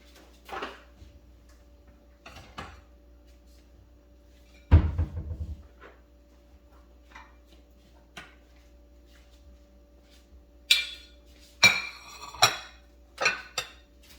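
Cooked chicken quarters lifted out of a toaster oven onto a plate: a few sparse metallic clunks and scrapes, one heavy thump near the middle, then a quick cluster of sharp clinks and rattles at the end, in a quiet kitchen.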